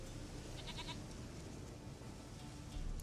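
A goat bleats in The Witcher 3, a few short, faint calls near the start over a constant low ambient rumble, with no talking.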